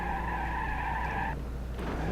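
Fast car braking hard at speed in BeamNG.drive, a loud tonal tire squeal holding for over a second before cutting off abruptly, leaving engine rumble and a short scrape.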